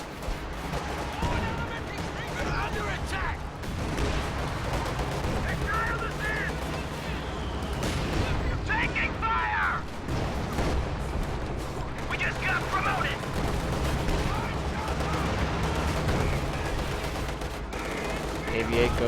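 Sustained battle noise as a KV-8 tank assault is backed by propaganda artillery in a strategy video game. Continuous overlapping gunfire, machine-gun rattle and explosions play throughout under a commentator's voice.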